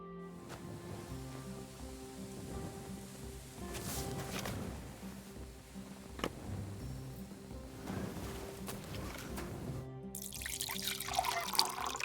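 Water sloshing and trickling as a water skin is filled from a barrel in Kingdom Come: Deliverance II, a faint, steady splashing over soft game music with occasional louder splashes and a brighter burst near the end.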